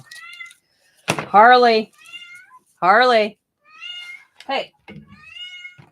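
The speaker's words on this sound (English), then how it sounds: "Oh my God, cat. I love you, but you're driving me crazy with you meowing." A pet cat meows repeatedly at close range in a room, several drawn-out, wavering cries with short gaps, mixed with someone talking to it.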